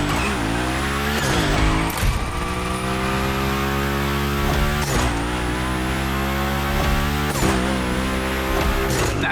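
Sustained loud engine roar and tire squeal from a car sliding through a Hoonigan gymkhana course in The Crew Motorfest, with the revs dipping and surging as it drifts.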